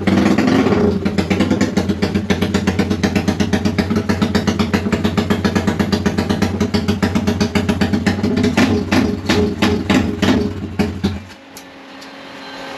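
A Yamaha LC 5S motorcycle with an upgraded engine starts and idles loudly up close, a rapid steady clatter of firing pulses that rises in a few revs before cutting off abruptly, leaving near silence.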